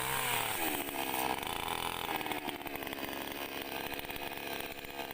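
Mini chainsaw cutting wood while clearing land for an areca palm plantation, a loud, continuous buzzing whine close by, its pitch dipping slightly as the chain bites into the wood.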